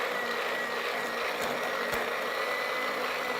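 A steady, loud electric mixer motor drones on while whipping evaporated milk with cream, an unbroken whirring hum with slight clicks, close up and alone.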